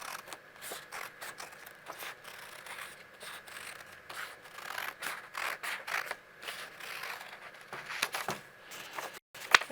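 Scissors cut a rounded triangle shape out of craft material, producing a steady series of close scraping, crunching snips that rise and fall in rhythm, with no voice over them.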